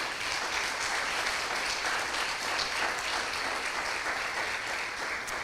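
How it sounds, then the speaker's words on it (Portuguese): Church congregation applauding together at an evening worship service, a dense, steady wash of clapping that holds at full strength throughout, with no voices on top. "Você pode aplaudir o nome do Senhor nessa noite?"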